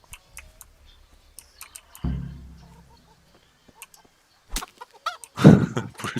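Chicken clucks in a video game come in sparse, sharp bursts. A low thud and rumble sound partway through, then a louder flurry of squawks and clucks near the end.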